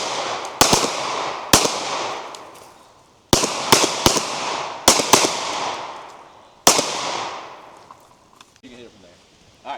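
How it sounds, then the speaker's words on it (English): Handgun shots ring out at an outdoor shooting range, eight sharp cracks in irregular pairs and singles with ringing decay after each, loud and close, and a voice speaks briefly near the end. "Fire 2 rounds standing, 2 rounds kneeling, left side of your imaginary barricade in 15 seconds."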